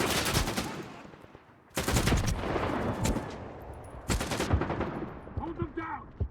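Automatic gunfire in the shooter S.T.A.L.K.E.R. 2, three loud, close bursts of rapid shots separated by brief pauses, with a voice speaking between them.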